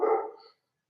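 A single short, fairly loud dog bark, close by, fading out within half a second and followed by silence.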